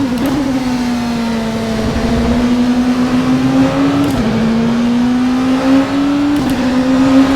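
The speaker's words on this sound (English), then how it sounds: "So I'm going to turn the engine up and I'm going to try and put some fast laps in now" Oreca 07 LMP2 prototype race car engine in rFactor 2 droning steadily at high revs, pitch climbing slowly with two brief dips at gear shifts, loud and continuous throughout with no talk.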